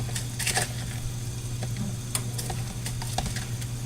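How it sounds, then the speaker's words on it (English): A spatula scrapes and turns roasted redskin potatoes stuck to aluminum foil, giving close, repeated scraping and crinkling over a steady faint sizzle. "going to have to use a spatula to turn these because they stuck to the aluminum foil"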